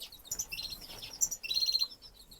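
Bullfinch parents and three chicks call in an indoor bird room, with a quick succession of high, thin chirps and piping notes, some overlapping, close and moderately loud.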